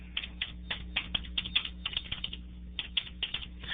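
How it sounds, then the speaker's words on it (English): Keys clacking on a computer keyboard in short bursts of irregular, close taps, moderately quiet, entering a place description into a mapping program, no voices. "I can go ahead and type in a description."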